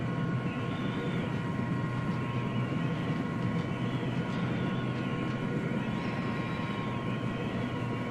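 Aircraft flying in ARMA 3 with a steady, continuous engine drone and a faint whine rising and falling slightly, no talk over it.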